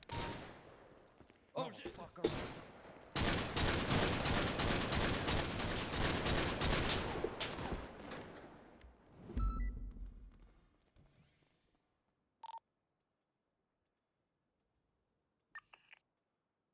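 Gunfire in the GTA V NoPixel roleplay game: a few sharp separate shots, then a long rapid automatic volley that cuts off into quieter trailing noises, with a brief exclamation from a voice.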